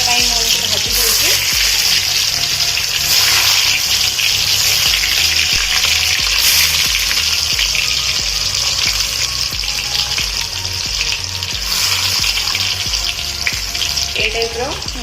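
Food frying in hot oil, with a loud, steady close sizzle and bubbling throughout, a few clinks of utensils, and faint speech in the background.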